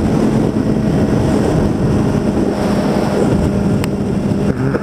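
A BMW S1000RR sport motorcycle ridden at around 150 mph in fifth gear: a constant loud rush of wind buffeting the helmet microphone, with engine drone buried underneath and no speech.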